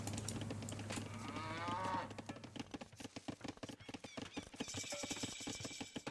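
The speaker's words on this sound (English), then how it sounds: "we just lost a cow there" A cow in the Age of Empires II video game lets out a brief low moo amid busy game sounds, clicks and effects, with a brighter tonal flourish near the end.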